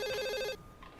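Telephone bell ringing in a film scene, a bright multi-tone ring sounding loud and close for about half a second before cutting off, leaving faint room tone.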